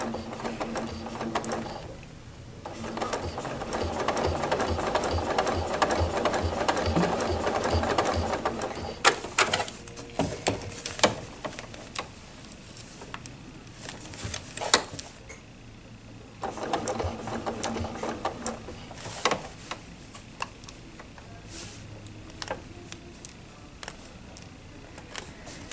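A sewing machine stitches quilting lines along a ruler for a table runner, running in long steady mechanical bursts with pauses and clicks between them, fairly close.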